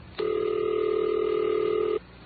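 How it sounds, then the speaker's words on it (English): A single steady telephone tone on an old Bell System line, one continuous electronic hum lasting close to two seconds and then cutting off cleanly, clear and alone. "until the phone rings at the number you dialed"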